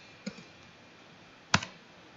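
Two separate key presses on a GrandMA2 lighting console, each a crisp, close click, the second louder, spaced over a second apart in an otherwise quiet room.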